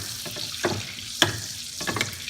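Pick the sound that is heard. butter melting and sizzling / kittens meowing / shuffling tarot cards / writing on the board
butter melting and sizzling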